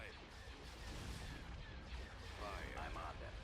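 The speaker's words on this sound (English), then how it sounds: "Firing turbo lasers" Turbolaser barrages in the Star Wars space battle game Thrawn's Revenge: a dense, rumbling wash of repeated blasts and crackling impacts, with radio-style voices talking over the combat.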